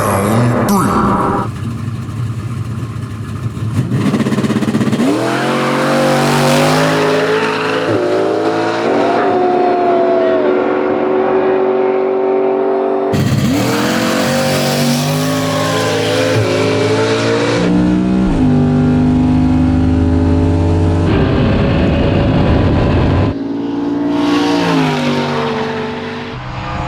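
Race cars roar past in a sustained, loud engine drone, revving and shifting pitch through several passes with brief tire squeal and people talking underneath.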